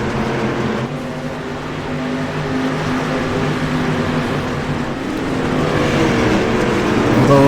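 Dirt street stock race cars in the iRacing sim race at Lanier, several engines droning and revving together in a steady, dense pack that swells slightly toward the end, with no talk.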